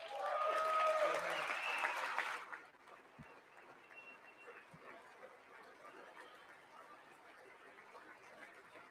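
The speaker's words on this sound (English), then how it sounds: "I wasn't sure if anybody even on this side was going to applaud for that." Applause at the State of the Union address, a loud burst of clapping for the first two and a half seconds that cuts off abruptly, leaving faint room murmur.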